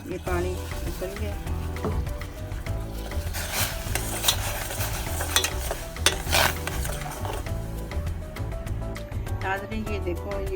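Custard powder being stirred into about 1.5 kg of village milk in a pot, a steady scraping and clinking of spoon against metal with sizzling-like bubbling, continuous and close, while someone talks over it.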